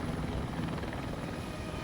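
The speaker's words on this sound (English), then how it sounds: "Pilot Yass holds the helicopter steady, so paramedic Pete can jump out." Close, loud rotor roar of a rescue helicopter holding a steady hover, a dense continuous thudding wash with no pauses and no voices.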